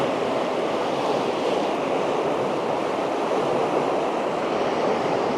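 A flooded river torrent rushes past its bank in a steady, dense roar, loud and close, unbroken throughout with no voices.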